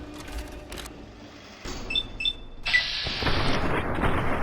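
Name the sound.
gunfire in a video game (Fallout: New Vegas)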